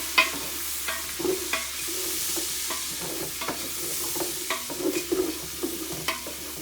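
Celery and carrots sizzle and crackle in a hot pan while a spoon stirs and scrapes the bottom, giving a steady hiss broken by irregular scraping knocks, close up and with no voices.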